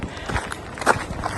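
Deliberately heavy footsteps crunching along a garden path at Osborne House, several uneven steps close by, with a louder scuffing step near the middle.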